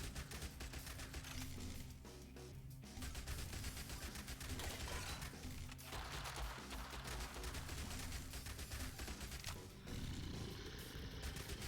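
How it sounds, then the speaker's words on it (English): Rapid crackling bursts of an electric Tesla gun firing nonstop in a zombie survival video game, dense and loud over a continuous rumble, with no talking. "this Tesla gun seems a lot more effective"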